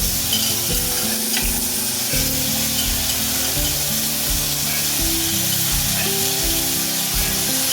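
Steady, loud sizzling of vegetables frying in a pan, with continuous crackle and occasional shifts in tone, no talking.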